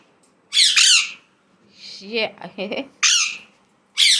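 A pet parrot, apparently an Alexandrine, gives loud, shrill squawks in three sharp bursts with chattering calls between them. It is close and clear, and a voice briefly speaks once.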